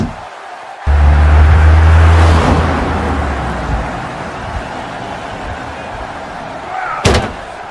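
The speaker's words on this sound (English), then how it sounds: "He's just been hit by a car" Car striking a wrestler in WWE 2K23: a sudden heavy thud followed by a roaring engine rumble that fades into crowd noise, with another sharp hit near the end.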